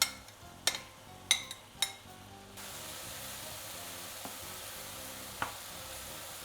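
Onion with green and red peppers and eggplant frying in a pan, a steady close sizzle with a few sharp clatters and stirring knocks at the start, then an even hiss that continues alone.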